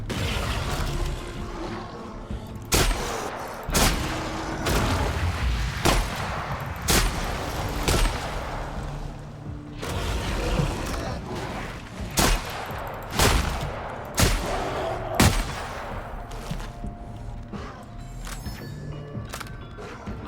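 Explosive blasts burst repeatedly in The Outer Worlds as exploding rocks thrown by huge beasts strike the player, sharp loud cracks every second or so over a dense, rumbling combat din.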